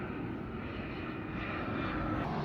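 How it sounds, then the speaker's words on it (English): During an outdoor brew day for a doppelbock beer, an airplane passes overhead, producing a continuous, fairly loud broadband engine rumble that holds steady throughout with no voices. "Next plane's coming in,"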